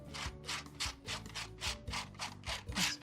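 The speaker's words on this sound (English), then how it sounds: "I think I'm going to scrape on a little bit of off-white acrylic" Off-white acrylic paint is scraped across a mixed-media collage in repeated rhythmic strokes, each a close, gritty rasp with a low tonal hum running underneath, about ten passes at a steady pace and no speech.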